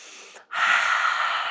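A person takes a deep, forceful breath during a guided meditation, a short intake, a brief pause, then a long, strong, airy exhale, close and alone.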